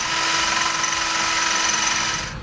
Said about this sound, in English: We're now going to use a 3/8 drill bit to drill out both holes here and the one hole located here.